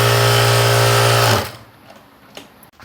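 A sewing machine hems the edge of a blouse, running close and loud in a steady continuous whir for over a second before stopping, leaving a few faint clicks.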